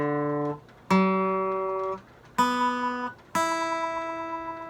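A guitar's G string, tuned out of pitch, is plucked as four separate ringing notes, each sustaining and fading before the next, clear and close with no talking.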